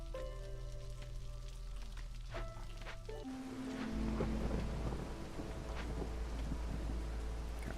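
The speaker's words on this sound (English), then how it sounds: "The storm is ruining our fun." A game storm brings rain hiss and low thunder rumble to a settlement-building scene, rising partway through into a louder wash of rain with scattered crackles over a steady background tone, no talk.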